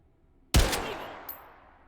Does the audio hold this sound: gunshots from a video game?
yes